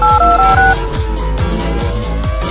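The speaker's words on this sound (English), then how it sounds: "Must try calling the switchboard." Telephone dialing tones ring out as a call is placed to an institution's switchboard, a loud run of steady overlapping beeps over a low rhythmic hum, with no talking.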